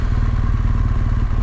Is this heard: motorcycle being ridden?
yes